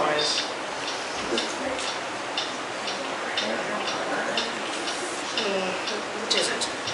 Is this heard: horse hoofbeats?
no